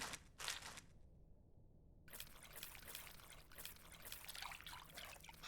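Warm water is poured into a bowl of tamarind in the cooking game Venba, a soft, steady trickle that runs for several seconds with a short break near the start, fairly quiet and without talking.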